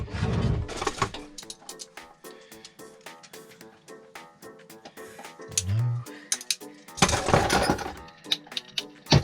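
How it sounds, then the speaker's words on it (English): Glass shattering inside a campervan during a wet storm: a sharp breaking crash followed by scattered clinks and tinkling fragments. A louder burst of rattling comes near the end, with a brief voice in the background. "I believe that was glass."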